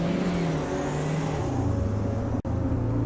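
A BMW race car engine roaring at Kyalami in the Automobilista 2 racing game, a loud, steady high-revving drone with a brief gear-change dip partway through.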